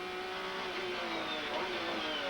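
GT race cars, including a GT1 Porsche, racing on a circuit, a loud continuous engine roar with rising, revving tones as the cars pass, alone without talk.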